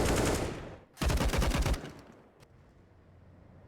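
Rapid automatic rifle fire rings out during a Counter-Strike match on the Vertigo map, two loud dense bursts roughly a second each, then a tail of faint echoes and scattered shots.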